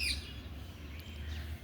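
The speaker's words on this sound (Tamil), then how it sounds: "இங்கே பாருங்கள், மைனா எத்தனை இருக்குதுன்னு பாருங்கள்." Mynas in a rooftop garden, giving a few faint, distant chirps over a low steady background hum.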